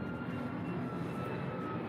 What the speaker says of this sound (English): it's a plane.